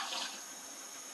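Two cups of water poured into a container, a brief soft rushing splash heard faint and close.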